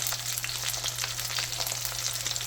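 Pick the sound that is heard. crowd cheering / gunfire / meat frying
meat frying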